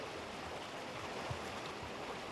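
River water rushing steadily past weirs on the Río Sarria near Samos, a continuous broad hiss of flowing water with no pauses, moderately distant.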